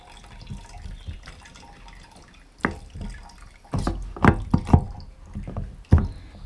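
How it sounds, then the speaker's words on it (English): Water from a ram pump delivery pipe drips and splashes into the top of a pipe in irregular, close drops and small spurts. The sound is fairly quiet, and no one speaks. "the water now pours in directly to the top"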